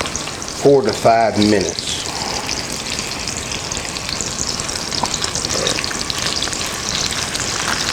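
Beyond Meat fries in a pan with a loud, continuous close sizzle and crackle that fills the whole stretch, with a short spoken phrase at the start.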